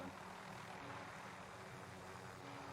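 A helicopter in Call of Duty Warzone gives off a faint, steady rotor and engine drone that hums continuously in the background.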